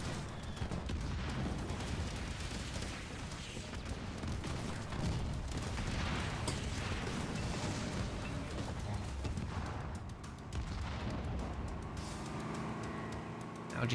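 Archer missile strike in the real-time strategy game Halo Wars 2, a dense barrage of explosions and booms rolling over continuous battle noise and gunfire, loud and sustained.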